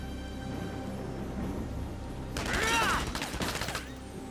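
Gunfire from soldiers in Valkyria Chronicles 4: a sudden loud burst of rapid shots midway through, following a steady low game background hum, with the volley ringing out for about a second before tapering.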